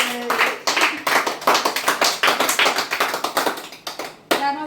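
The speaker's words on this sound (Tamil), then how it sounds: "எல்லாம் கை தட்டுங்க." A crowd clapping their hands at a fiftieth wedding anniversary celebration, dense and steady applause close by, with a voice calling out near the end.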